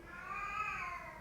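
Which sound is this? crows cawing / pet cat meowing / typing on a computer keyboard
pet cat meowing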